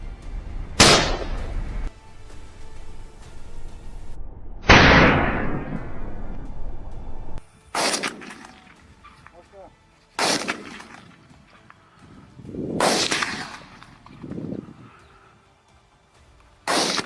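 Hunters fire on wild boars outdoors, several loud, sharp gunshots cracking at irregular intervals, each followed by a ringing decay, with quieter background noise between the shots.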